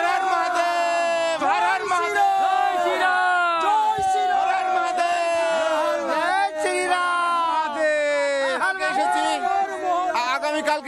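Pilgrims from West Bengal at the Maha Kumbh in Prayagraj chant slogans together, a loud, close crowd of voices rising and falling in repeated rhythmic shouts throughout.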